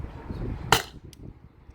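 A CO2 air pistol fires one short, sharp crack over a low background rumble, with a faint click shortly after.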